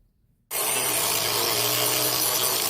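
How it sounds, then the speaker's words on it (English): A grinder works down a quarter-inch piece of steel for the blade of a kindling splitter, starting abruptly after a brief silence and then running as a loud, continuous harsh grinding rasp. "On the blade, this is just a piece of 1/4 inch that I'm grinding down."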